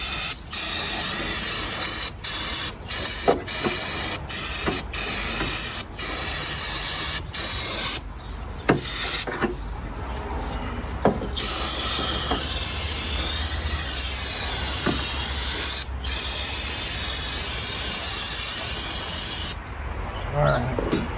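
A can of brake cleaner sprays in long, loud hissing bursts broken by short pauses, close up in a home garage during an oil change, with faint movement between blasts.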